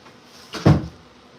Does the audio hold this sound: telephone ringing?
no